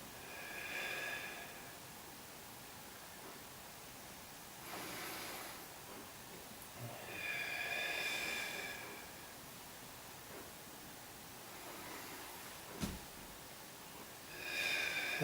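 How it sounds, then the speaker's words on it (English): Soft, slow breaths in and out during a relaxed breathing exercise, faint and close, with long quiet gaps between each gentle airy exhale. "And this is soft breathing, guys."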